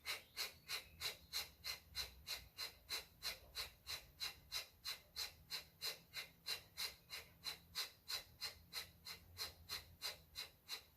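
Kapalabhati yoga breathing: a steady run of about thirty forceful, sharp nasal exhales in an even rapid rhythm, close and clear with no talking.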